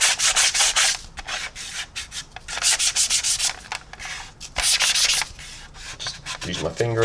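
Sandpaper rubbing over painted plastic on a 1/48 SU-33 model kit, close and loud, in bursts of rapid back-and-forth strokes separated by short pauses.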